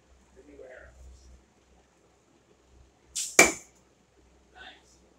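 Arrow from a 55 lb takedown bow with new fletching designs striking a target, a sudden sharp whoosh and hard smack, after faint murmured speech and followed by a brief quiet voice.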